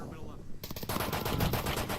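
Rapid bursts of automatic gunfire in the VR shooter Onward during a competitive finals match, dense, loud and continuous, with a faint voice underneath.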